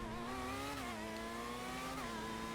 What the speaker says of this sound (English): the engine and the revs sound a lot more hyper, a lot more wild